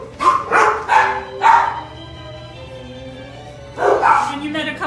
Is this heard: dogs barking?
yes